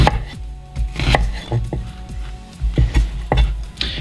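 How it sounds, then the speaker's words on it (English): A knife chops through an onion on a cutting board with quick, uneven strokes, sounding close and crisp as sharp knocks with a few brief pauses and no talking. "all I'm going to do at this point for the onion is just do some quick cuts here"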